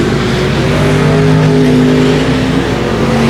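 Race cars roar down the back straightaway at 281 Speedway, a loud, sustained engine howl with rising and overlapping pitches as several cars run close together.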